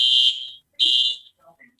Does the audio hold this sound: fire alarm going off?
yes